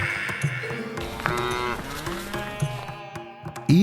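Cattle and buffaloes kept at the Salangpur Hanumanji temple low and moo, several long, loud calls overlapping one another close by, amid farmyard noise and with no talking.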